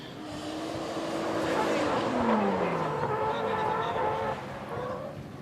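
Drift car number 55 sweeps past at a drift event, its engine note rising and falling with a descending pitch as it goes by, while commentary talk runs over the top.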